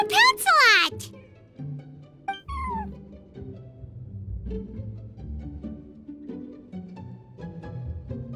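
A cat meows in high, sliding cries in the Genshin Impact game, followed by a soft game music bed with a few faint chirps and tones.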